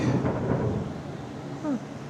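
Thunder from a lightning storm outside an open garage: a low, steady rumble that swells briefly near the end, with no voices.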